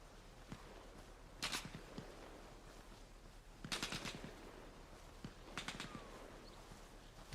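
Enemy gunfire in the military game ARMA Reforger, with sharp distant shots arriving in brief clusters of cracks over a quiet outdoor background.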